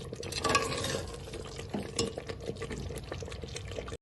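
A spoon stirs mutton korma with added rose water in a pan on a gas stove, giving a steady wet scraping and soft sizzle that runs continuously with small clatters.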